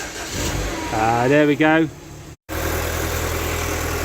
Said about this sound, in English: that was enough to get this Mini started